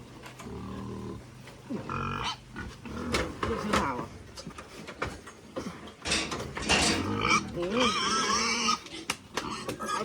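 Fattened farm pigs grunting and squealing close by, a dense, noisy run of rough snorts and shrill cries that rarely lets up, with a voice mixed in at times.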